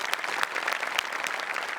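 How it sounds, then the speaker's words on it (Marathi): Audience at a Marathi comedy stage show applauds steadily, a brisk even wash of clapping from a sizable crowd throughout the short stretch. "त्यांच्यासाठी एकदा जोरदार टाळ्या"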